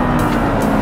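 An Audi R8 V10, sharing the Lamborghini Gallardo's V10 engine, roars under hard acceleration on a racetrack, a loud, steady, close engine drone with a pulsing rise through the brief moment.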